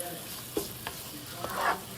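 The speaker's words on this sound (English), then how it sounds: "we're gonna mix our onions and our garlic in the pan." Onions and garlic fry and sizzle in a pan while being stirred, a close steady hiss broken by a few scraping utensil knocks, with no voices.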